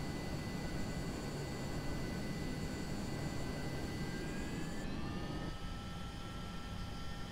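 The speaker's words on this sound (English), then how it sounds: "That engine spooling up a touch more." Steady whine of an aircraft engine in Flight Simulator X on approach to Gatwick, a constant broadband roar with tonal lines that shift upward as the engine spools up a little, heard alone.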